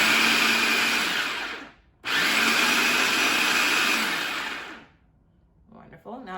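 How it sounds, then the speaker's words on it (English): A food processor pulses brown rice and black beans for black bean burgers, two loud whirring bursts with a short gap between, then a quiet tail with brief rustling. "We're going to start by combining our brown rice and black beans with a food processor."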